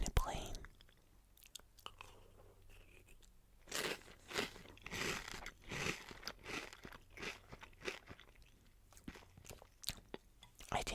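A person in a pink fuzzy monster costume crunches and chews strawberry-flavored monster marshmallow cereal up close, with repeated crisp bites and soft mouth sounds in irregular bursts and no talking.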